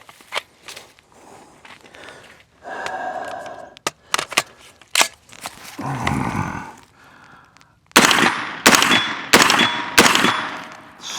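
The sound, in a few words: gunfire from a Daniel Defense DD PCC 916 9mm carbine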